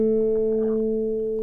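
A single sustained guitar note from a D minor chord rings steadily, clear and close, fading only slightly over its short span.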